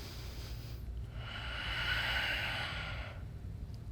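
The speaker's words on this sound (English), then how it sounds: "Breathe in." A single long inhale during a strength-focused yoga flow, a soft airy hiss that swells for about two seconds and fades, close but quiet over a steady low hum.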